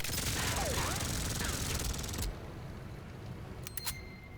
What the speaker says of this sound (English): But I can also shoot the enemy.